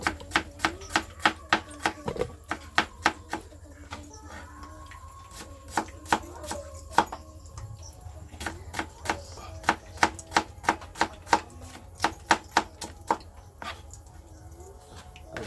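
Rapid, crisp knife strokes chopping chilli and vegetables on a board, sharp taps in irregular quick bursts with brief pauses, close and clear with no talking over them.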